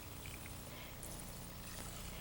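Water poured onto two cups of raw rice in a steam pot, a steady soft splashing trickle that runs unbroken and fairly quiet throughout.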